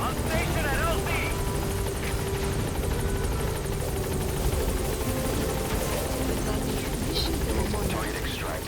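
A military helicopter arrives at a landing zone in Metal Gear Solid V: The Phantom Pain, its rotor and engine drone loud, steady and close throughout, with faint game sounds layered on top.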